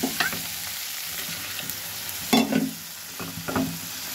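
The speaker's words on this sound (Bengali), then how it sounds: "এই যে এখন কাঁচা কলাটা রান্না করতেছি, কষাচ্ছি ভালো করে" Green banana, cooked with small prawns, is stir-fried in a pan with a constant low sizzle, broken by a few louder scraping stirs of a spatula against the pan.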